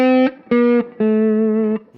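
Three sustained lap steel guitar notes in open D tuning ring out in sequence, two short and one longer, each with rich overtones and a clean, slightly effected tone, with no voices.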